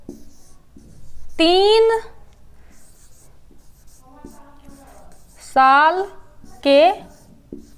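A pen scratches steadily across paper close by during a lesson on the immunization schedule, while someone speaks in short bursts over it.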